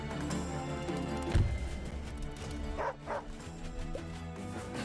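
Dog unit in the strategy video game Wargroove giving a few yipping barks and whimpers over game music, with a thud and some clatter mixed in, fairly close and moderately loud.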